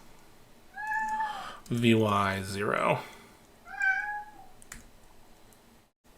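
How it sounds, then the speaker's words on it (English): A house cat meows repeatedly nearby, one drawn-out, strained cry between shorter plaintive mews, while someone speaks briefly. "so the cat doesn't drive everyone batty, merely me."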